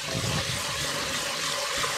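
Water from a kitchen tap gushes steadily into a pot holding rinsed rice for chili, a continuous close hissing splash with no pauses.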